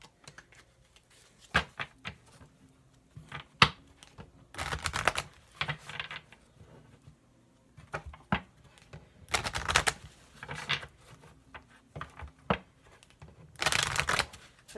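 Tarot cards shuffled and drawn during a reading, with short riffling bursts and light slapping clicks in irregular clusters, close and fairly quiet, with no talking.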